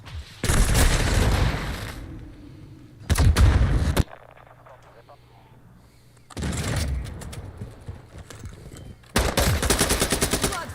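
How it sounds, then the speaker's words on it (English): Bursts of automatic gunfire from enemies in Call of Duty: Modern Warfare II, loud rapid rattling volleys in several separate bursts with quieter gaps between, some distant booms. "I'm taking Enemy fire!"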